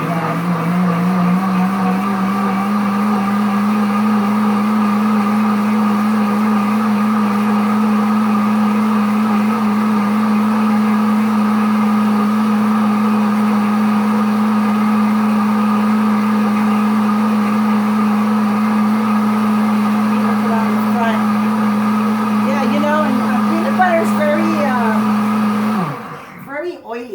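A Pampered Chef self-cleaning demo blender runs continuously at a steady high whine for nearly half a minute, loud and close, then winds down at the end.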